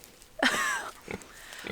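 A pig on an Australian homestead gives a sudden loud squeal after touching an electric fence, followed by a couple of shorter, fainter grunts and squeaks close by.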